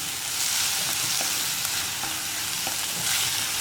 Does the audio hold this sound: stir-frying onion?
yes